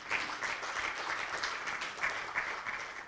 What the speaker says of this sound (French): Ça, je pense qu'on peut l'acclamer très fort.